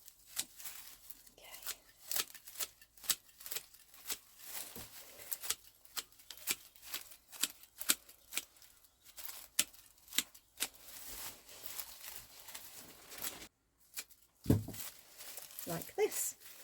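Scissors snip around the edges of a straw wreath base, a run of short, crisp cuts and rustling straw, fairly faint and irregular, with a pause near the end.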